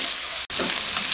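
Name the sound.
capsicum cooking on high flame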